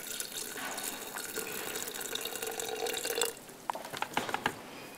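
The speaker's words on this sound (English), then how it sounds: "you're going to fill the water up to that bottom line" Water poured into a Soyabella soy milk maker, a steady close trickling fill that gives way to a few drips and splashes at the end, no talk.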